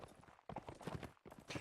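Heavy horses' hooves clop in a rapid, irregular rhythm in a medieval combat video game, moderately close and fairly faint, without speech.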